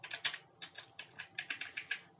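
Rapid clicks of a computer keyboard, with keys pressed in an uneven rhythm and an Enter press among them. The typing is close and quiet, with no other sound.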